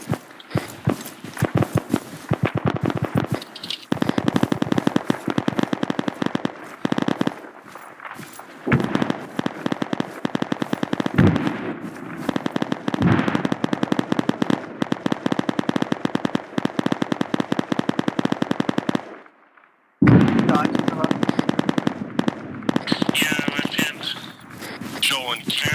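Sustained gunfire in the Arma 3 military video game, dense rapid automatic bursts mixed with single shots, loud and nearly continuous for about twenty seconds, a short silent gap, then more firing, with voices calling out over it.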